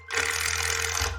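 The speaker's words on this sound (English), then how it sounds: "So you'd screw this down through the ISO into the substrate" Power tool driving a screw through ISO insulation into a roof substrate, a single short buzzing whir close by, steady for about a second before a slight shift in pitch.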